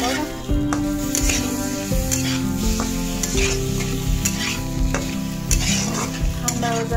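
Dried bamboo-leaf fish is dry-roasted without oil in a wok, giving repeated scraping and clattering stirs over a soft sizzle, close and fairly loud, with a steady tonal hum running underneath.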